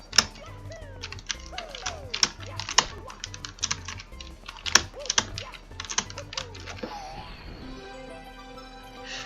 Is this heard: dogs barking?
no